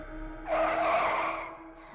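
A car screeches to a stop near an old house around midnight in a horror story, one loud tire squeal rising out of low engine rumble and fading after about a second.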